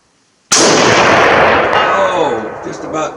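A single sharp, very loud shot from a Russian Mosin Nagant M91/30 PEM sniper rifle firing 182-grain ammunition cracks after a moment of silence, then rings out in a long echoing tail as a voice begins.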